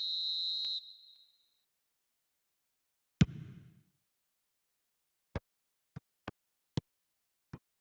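A referee's whistle in a football video game gives one short, shrill blast, followed by a dull thud and a few sharp clicks, with no voices.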